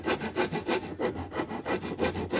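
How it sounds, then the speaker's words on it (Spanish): A rasp file rounds off the corner of a wooden mortise-and-tenon joint piece in steady, rhythmic back-and-forth strokes, each one a close, coarse scraping rub, with no talking. "Estoy usando este tipo de lima de escofina, que es más fácil de desbastar la madera."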